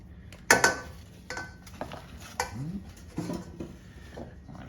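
Breakfast sausage patties broken up in a cooking pan: a utensil scrapes and taps against the pan in a run of irregular knocks and clatters, close by, with a soft background hiss.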